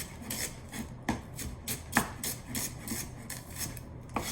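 A knife slicing lengthwise through a dandelion root, producing a series of soft scraping, rasping cuts with a few sharper taps on a cutting board, close and fairly quiet, with no talking.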